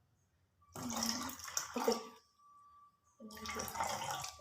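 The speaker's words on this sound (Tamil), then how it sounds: "தண்ணி ஊற்றுறேன் கொஞ்சம்" Water is poured into a glass in two close, splashy bursts with a short pause between them, while a person speaks briefly.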